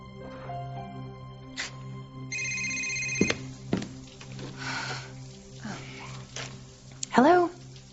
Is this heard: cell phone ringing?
yes